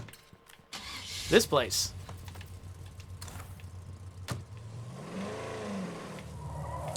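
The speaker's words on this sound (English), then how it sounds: "let's get in the car and go" In State of Decay 2, a car door thuds, the engine cranks and starts, then settles into a low idle and revs as the vehicle pulls away, with someone talking briefly over it.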